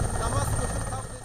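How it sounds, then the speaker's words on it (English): A helicopter descends near a village, its low rotor throb and rumble steady and fairly close through a brief moment, with a voice talking over it. "As the helicopter descends, the villagers rush out."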